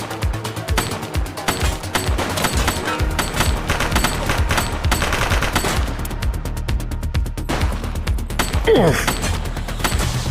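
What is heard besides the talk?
gunfire in the video game The Precinct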